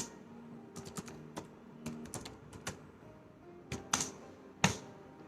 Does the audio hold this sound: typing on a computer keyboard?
yes